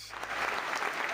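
Studio audience applause, a dense burst of clapping that swells quickly and holds steady and loud for about a second.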